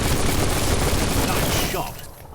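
A gunshot in the video game Biomutant, heard as a loud, dense blast that roars steadily and then fades out near the end.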